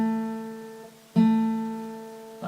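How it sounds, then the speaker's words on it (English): Two plucked guitar notes of the same pitch, played at the second fret on the D string, each ringing and slowly fading, the second struck about a second after the first. "so 2nd fret onto the D string"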